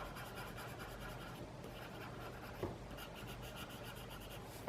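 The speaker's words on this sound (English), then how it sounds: "That just kind of smears it into the paper a little bit, flattens out the tooth of the paper" Graphite pencil rubbed and blended into textured drawing paper, a steady soft scratchy rubbing that runs the whole time, close and quiet, with one slightly louder stroke partway through.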